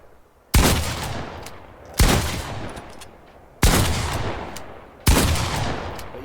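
Four loud, evenly spaced gunshot blasts from a video game shotgun, each a sharp crack with a long decaying tail, about one and a half seconds apart, with no voices.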